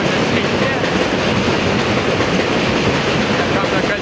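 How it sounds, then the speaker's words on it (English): A train rumbles overhead on an elevated track near a stadium before an Army football game, producing a steady, loud, dense roar with faint clatter that continues throughout, while crowd noise and faint voices mix in beneath it. "Here's the train going overhead."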